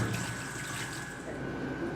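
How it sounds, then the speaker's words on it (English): Water from a tap runs steadily into a sink as dishes are soaped and washed, a continuous close splashing hiss with faint clinks. Little or no talk is heard over it. "So, you see how I'm washing the dishes? I make sure that every corner gets soap. So it goes in the water."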